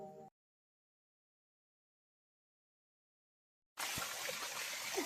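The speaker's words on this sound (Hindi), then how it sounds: "हमारे यहाँ जो पंदेर का पानी है बहुत अच्छा, बहुत अच्छे से आ रहा है" Spring water rushes at a village water source in Uttarakhand, a close, steady gush that starts abruptly after several seconds of silence and runs to the end.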